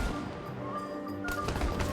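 Rapid bursts of artillery and gunfire from a howitzer battle in Civilization 7, loud cracks and booms stacking into a dense barrage, growing heavier near the end.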